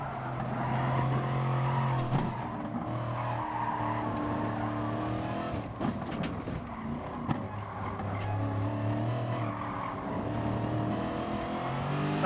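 Racing cars in Gran Turismo Sport, a McLaren among them, roar in a steady, continuous engine drone with shifting revs and occasional tire squeal, loud and unbroken with no talking.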